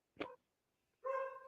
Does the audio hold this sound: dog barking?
yes